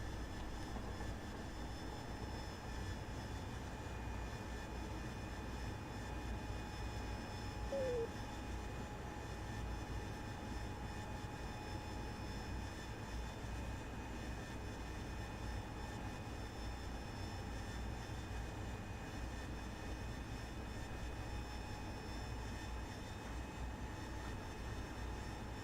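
Constant droning roar of a Harrier jet engine in a flight game, steady and unbroken throughout, with a faint whining tone on top and no talking.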